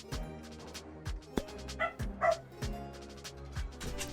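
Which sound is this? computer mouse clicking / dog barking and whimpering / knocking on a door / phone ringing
dog barking and whimpering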